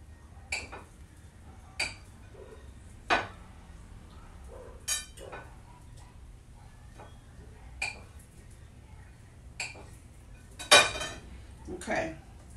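Chunks of chicken breast chopped into hot macaroni in a pot, heard as a series of separate sharp clinks and knocks of a utensil against the pot, spaced a second or two apart over a low steady background.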